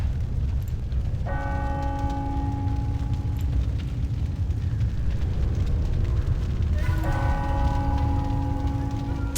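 A ringing alarm bell in Planescape Torment sounds in two long sustained bursts with a steady metallic tone, over a constant low rumbling ambience, with no voices.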